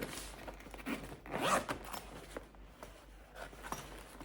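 A zipper being opened on a sturdy portable bag, drawn in a few rasping pulls of uneven length with one longer, louder stretch in the middle, heard up close with no talking.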